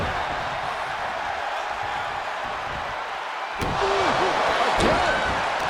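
A heavy impact thuds through a wrestling match in the WWE 2K23 steel cage video game, a couple of sharp slams over a steady roaring crowd bed with faint commentary.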